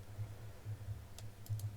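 A few faint, sharp clicks of a computer mouse on a recording program, brief and close over a low background hum, with no speech.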